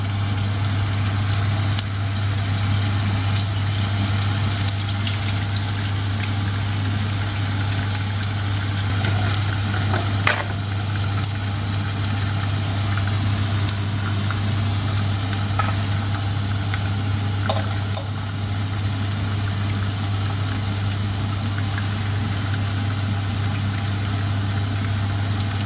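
Lamb kofta frying in moderately hot oil, giving a steady, even sizzle throughout with a constant low hum beneath and occasional faint clinks, with no talking.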